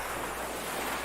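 Ocean waves in a horror audio drama, a broad continuous wash of surf with some wind, steady and fairly loud, without any voices.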